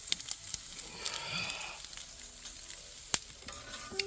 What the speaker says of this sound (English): Also cooking up the fresh squid that we just got.